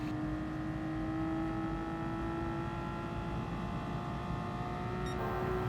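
A race car engine in Gran Turismo Sport holds a steady, fairly faint whine at high revs, and near the end the pitch shifts abruptly as it drops a gear.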